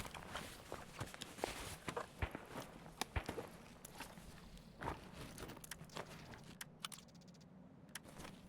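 Footsteps in the video game Escape from Tarkov, a run of quiet irregular steps and scuffs with small clicks and rattles mixed in, faint and somewhat distant.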